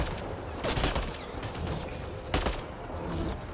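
Rapid bursts of homing-bullet gunfire from a weapon in the sci-fi shooter Mass Effect: Andromeda, a couple of loud volleys over a busy hiss of combat noise.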